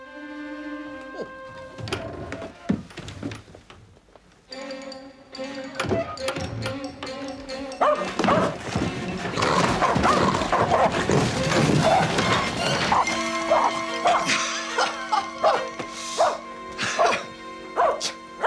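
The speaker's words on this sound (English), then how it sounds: "surely not frightened of a tiny little dog, Jeeves." A tiny dog yaps and barks in short, sharp bursts in an indoor scene, interleaved with people talking, the barks loud and close and growing busier toward the end.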